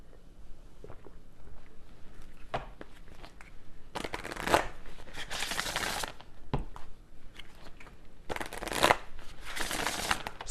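Tarot cards being shuffled by hand, with two long bursts of dense riffling and flapping and a few scattered single card taps and slaps in between, close and fairly loud with no voices.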